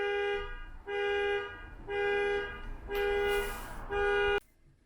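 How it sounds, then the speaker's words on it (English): Car alarm blaring in a steady repeating pattern of identical electronic tones, four or five even pulses with brief gaps, loud and close, then cutting off abruptly. "then it's a car alarm going off"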